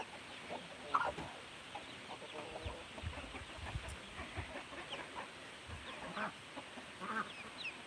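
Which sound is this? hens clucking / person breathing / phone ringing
hens clucking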